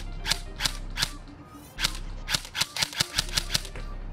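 A KWA airsoft gun fired outdoors in a series of sharp, close cracks, first a few evenly spaced single shots, then a pause and a quicker run of about ten shots.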